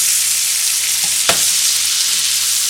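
Pork tenderloin pieces frying in a loud, steady sizzle of oil, butter and garlic in a pan, with a brief utensil knock standing out near the middle.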